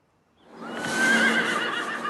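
A horse in a semi-free herd of about fifty lets out a loud, sustained whinny close to the microphone, rising in after a brief quiet start and holding for nearly two seconds, with no talk over it.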